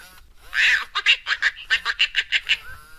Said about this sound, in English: Take 3, my special Aflac duck.